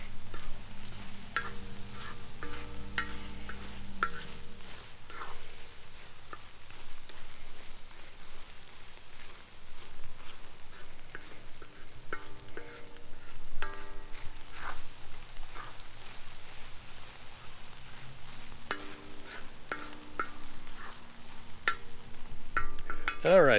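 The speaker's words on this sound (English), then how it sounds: "I want to fry it, but I don't want to burn it" Meat for discada tacos fries in peanut oil with a steady sizzle while being stirred, the scraping of the stirring utensil running throughout, fairly loud and close, with no talking.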